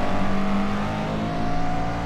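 A race car in iRacing at Sebring has its throttle feathered through a corner, the engine giving a loud, buzzing, close tone that wavers as the power eases on and off.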